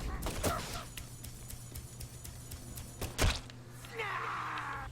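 Shotgun blasts with a power upgrade in Deadly Premonition 2: a few loud booms, one heavier shot near the end, followed by a mechanical whirring tail over a steady low game hum.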